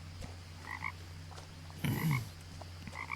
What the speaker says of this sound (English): A bunch of frogs? Bunch of little frogs.